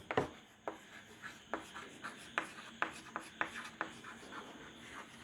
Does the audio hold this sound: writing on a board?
yes